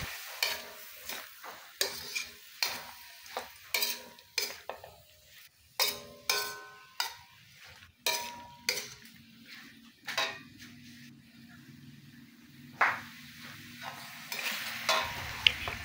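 A utensil scrapes and clatters rhythmically against a pan while chop suey with soy sauce is stirred, steady strokes about every second over a faint sizzle, close with no talking.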